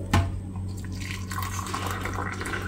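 Hot water pours into a cup for chamomile tea, a steady close trickle and splash after a brief knock at the start, continuing evenly throughout.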